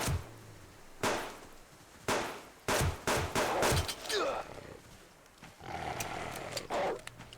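Rifle shots fired at a wolf while hunting in the survival game Subsistence, several sharp loud cracks spaced about a second apart, followed by rustling and scuffling movement.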